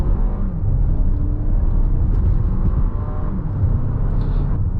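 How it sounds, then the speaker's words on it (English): A 2024 Lexus RX 500h F Sport pulling hard away from a standstill, its steady low engine and motor rumble heard from inside the cabin, loud and continuous without any talk. "So as we can see there, it's pretty potent off the line, and it really does get you up to speed quite quickly."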